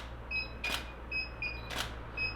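A camera in autofocus mode locks focus repeatedly, giving short high confirmation beeps broken by two crisp shutter clicks, close and fairly quiet over a low steady hum.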